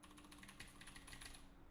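Keys clattering on a computer keyboard in rapid, uneven taps, close and fairly quiet, with no talking.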